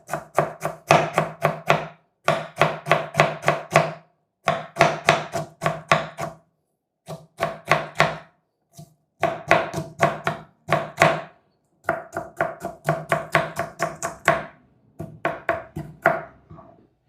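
A knife chops onion into thin slices on a board for a hotel-style omelette, with rapid rhythmic bursts of sharp taps grouped in quick runs and separated by short pauses, close and loud.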